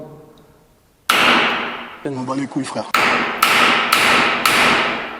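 A hammer bangs on a fire extinguisher in an abandoned building. Four loud, ringing metallic strikes come in a steady rhythm, and someone speaks French between the first blow and the rest.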